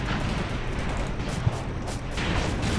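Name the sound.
shell hits on enemy tank, from video game Graviteam Tactics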